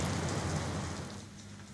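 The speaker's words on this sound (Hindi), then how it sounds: "वर्षा लगी रही।" Rain falls steadily in Odisha, an even hiss of drops that is fairly faint and eases off slightly toward the end, with no voices.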